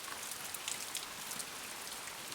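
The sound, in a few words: rain pouring in a cartoon story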